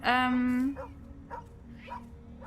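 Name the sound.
dog barking in video game Tales of the Neon Sea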